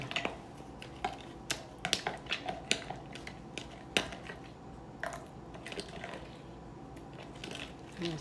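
Rice and chicken tikka are stirred in a pot after red food colouring goes in, giving a series of soft, irregular scraping and clinking spoon strokes at close range.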